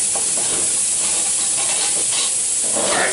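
Steam hisses continuously from a pressure canner, a loud, broad, unbroken rush that holds steady throughout with slight swells, close by and with no talk.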